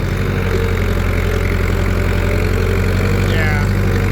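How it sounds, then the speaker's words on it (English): Farm tractor engine without a turbo running at a steady, loud idle, a constant deep drone with an even pulsing rumble and no change in pace. "This tractor is pretty much the same as 2750, same motor."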